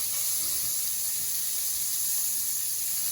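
Beyond Meat burger patty sizzling on a hot surface while pressed flat with a spatula, a constant soft hiss and crackle, fairly quiet and unbroken.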